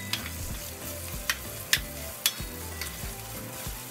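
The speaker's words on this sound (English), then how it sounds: "And you can keep stirring it and let it cook for about a minute." Tomato paste fries in a pan for spaghetti, giving a steady close sizzle, while a utensil stirs it with a few sharp scraping clicks against the pan.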